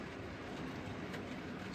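An O gauge model railway K3 locomotive running with vans, a steady close rumble of wheels on track with a faint rhythmic clatter, no voices.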